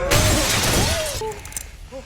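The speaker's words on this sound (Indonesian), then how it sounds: "Dan In-sok membantingnya ke meja kaca." A glass table shatters as a man is slammed onto it in a gangster drama fight, a loud, close, sharp burst of breaking glass at once mixed with a voice and brief cries.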